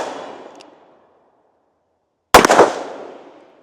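A Smith & Wesson Model 19 revolver firing .357 Magnum rounds outdoors: the tail of one booming shot fades, then after a silence another loud sharp blast rings out with a long decaying echo.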